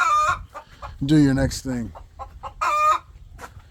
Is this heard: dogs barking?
no